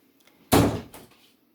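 A door swinging shut as a five-year-old leaves the room, one close, fairly loud thump with a short rattling tail, then quiet.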